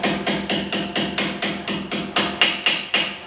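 A hammer drives a brake pad pin into a Brembo caliper on a Genesis Coupe, fourteen sharp metallic taps in a quick, even rhythm, loud and close with short ringing after each strike.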